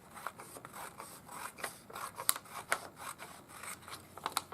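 Scissors snip through a paper sewing pattern in a quick series of short, crisp cuts, close and fairly quiet, with slight rustling of the paper between snips and no talking.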